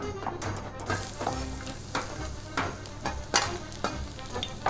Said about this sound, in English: Let's saute it very lightly.